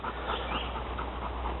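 A dog pants steadily with quick, rhythmic breaths on a geocaching trail, close and moderately loud over a constant low outdoor hum.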